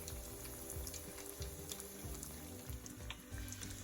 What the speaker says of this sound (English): Leave them untouched at least for 3 minutes and keep them frying until you see a nice